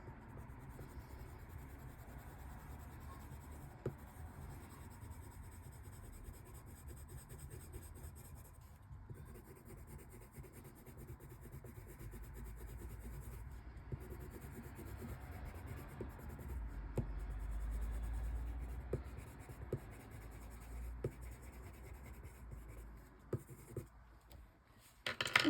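Coloured pencil rubbing back and forth on paper while blending, a soft continuous scratchy scrape with brief pauses and occasional light taps, close and fairly quiet throughout.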